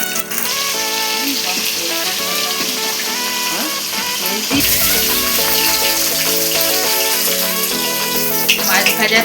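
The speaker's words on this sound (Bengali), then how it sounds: "মাছ ভাজা তেলের মধ্যে আলুটা দিয়ে দেব।" Potatoes go into hot oil left from frying fish and sizzle loudly and continuously, with the sizzle surging after they are added midway. Some kitchen clatter and stirring sound over it.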